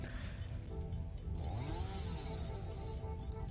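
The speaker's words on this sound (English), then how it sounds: "And the chainsaw starts." Steady droning whine of a chainsaw in the video game Satisfactory, holding a continuous buzzing engine tone at even loudness with a slight rising pitch sweep partway through.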